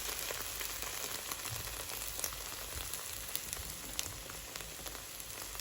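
Egg omelette frying in oil in a home kitchen pan, a steady dense crackling sizzle that stays even and close throughout with no voices.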